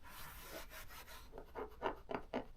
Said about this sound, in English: apply a thin, even coat and then rub it in